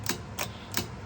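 A Howe coded fire alarm pull station transmitter produces four sharp, evenly spaced mechanical clicks in quick succession, close and fairly quiet over a faint hum.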